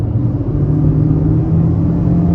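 Honda CR-V 1.5 turbo engine on the highway under acceleration, a steady loud low drone with road rumble inside the cabin, no voices.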